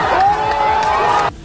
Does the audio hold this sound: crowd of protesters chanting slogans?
yes